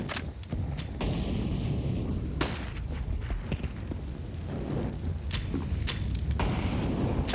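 Gunfire in a Counter-Strike match on the Vertigo map, sharp shots cracking out in quick separate bursts over a steady game-ambience bed, several reports spread across the stretch.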